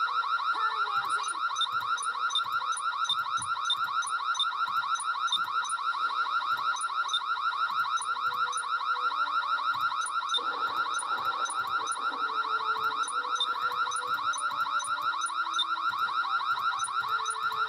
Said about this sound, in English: Pull the fire alarm.